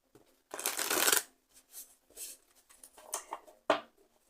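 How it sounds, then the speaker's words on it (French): Tarot cards being shuffled: a dense burst of riffling card noise, then several shorter, softer flicks and slides, ending with a sharp snap, close and clear with no talk. "on va tirer des cartes du tarot"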